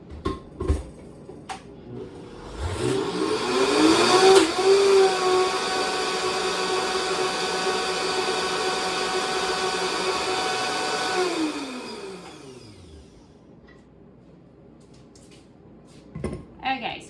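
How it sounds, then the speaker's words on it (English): A blender whirs through avocado chocolate mousse, ramping up to a loud, steady drone for about ten seconds before spinning down, with brief clatter before and after. "I will need to push them in and blend a little bit more"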